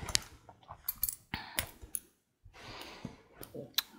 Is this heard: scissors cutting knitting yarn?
yes